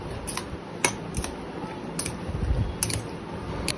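Diet breakfast ingredients are mixed together in a bowl with a utensil, giving quick light clinks and scrapes at an uneven pace, close but fairly soft, with no voices.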